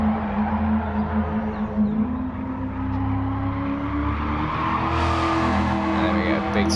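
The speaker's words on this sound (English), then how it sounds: "Big slide out that turn as well." A Shelby Cobra 427 in a racing video game slides out of a turn, its engine droning steadily at a low pitch with a rising whine near the end, held at a constant loud level.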